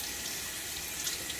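Cold tap water runs steadily into a sink during a winter wet shave, the flow hard water, a continuous close hiss that stays even and unbroken throughout.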